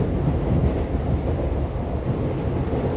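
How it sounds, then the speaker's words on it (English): Train wheels rolling on rails produce a steady low rumble with faint rhythmic clatter, continuous and fairly close, with no voices. "sound of the train's wheels continue"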